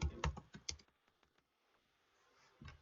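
Typing a field name on a computer keyboard in CRM software, a short burst of close, quick key clicks that trails off into quiet, followed by a few softer taps.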